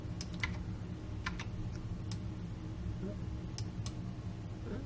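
Computer keyboard keys pressed in short clustered bursts of sharp clicks while working in After Effects, fairly close, over a steady low room hum.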